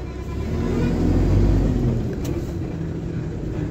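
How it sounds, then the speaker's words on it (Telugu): Vehicles passing at night on a forested ghat road, a loud rumbling engine swell that builds and fades, with a steady low roar continuing underneath. "సో బండ్లు అయితే వస్తున్నాయి."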